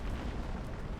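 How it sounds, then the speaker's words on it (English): A dam bursting in the video game Outer Wilds, heard as a steady, loud low roar of rushing water and rumble filling the whole moment without pause. "Oh shoot, the dam broke."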